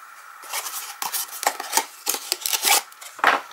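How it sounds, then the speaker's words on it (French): Scissors snip away leftover twine after a knot is tied for a craft card, a string of short, crisp cutting and rustling sounds close up, with no voices. "Je vais couper l'excédent"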